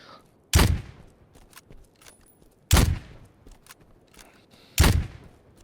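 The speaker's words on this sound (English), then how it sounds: "This is an MSR firing." Three loud, sharp MSR gunshots from a video game ring out about two seconds apart, each a sudden blast with a brief decaying tail over quiet background.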